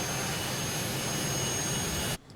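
A Cockspur Phenom PH100 jet engine in Microsoft Flight Simulator gives a steady, loud broadband roar with a thin high whine, constant for about two seconds before cutting off abruptly.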